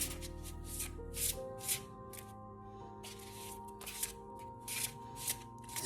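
A deck of new, slippery playing cards is riffled and shuffled close by in quick, crisp bursts of fluttering card noise, repeated several times over a faint steady hum.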